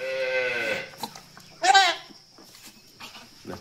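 Goats on a farm, being dosed with medicine for seizures, bleat loudly and close, with a long quavering cry followed by a sharp higher one and softer rustling in between.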